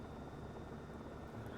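An H125 single-engine helicopter in a flight simulator game keeps up a steady, dense rotor and turbine drone, continuous and close with no breaks, and no one speaks over it.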